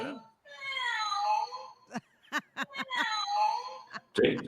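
A pet cat meows several times in drawn-out, wavering cries close by, broken by short sharp sounds and a louder burst at the end, in a quiet room.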